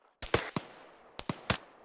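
Video game gunfire from the west side of town: a few sharp, fairly quiet shots in two short bursts over about two seconds, heard alone without talk.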